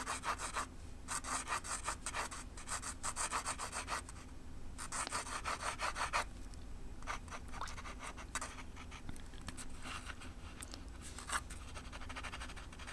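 A pen scratches horizontal strokes across paper in quick, rhythmic bursts, close and fairly quiet, repeating steadily with brief pauses between runs of lines.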